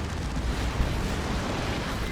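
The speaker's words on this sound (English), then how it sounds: "Now eats a Blastmaster shot" A Blastmaster shot explodes in the strategy game Dawn of War 2, a loud, dense blast rumble that holds steady for two seconds, with a brief sharper burst partway through.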